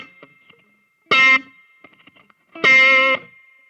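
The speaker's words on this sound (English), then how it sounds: "I'm hooking underneath the string and popping it" Two sharp, snapping guitar string pops made by hooking under the string and yanking it hard in a hybrid picking technique, each a bright percussive burst with ringing distorted tone, separated by quiet fret noise and light handling sounds.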